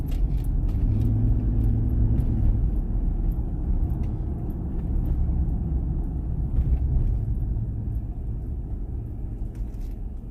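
A car passing along a narrow street off Vermont Avenue in Los Angeles, a continuous low rumble of engine and tyres that stays fairly close and then eases slightly toward the end.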